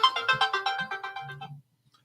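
A telephone ringtone plays a quick, rhythmic run of bright electronic notes for about a second and a half, then cuts off into silence.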